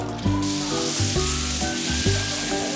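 Ingredients sizzle loudly in a wok as a street cook stir-fries at a Qingdao market, with the hiss running throughout and repeated scraping, tossing strokes of the spatula about every half second.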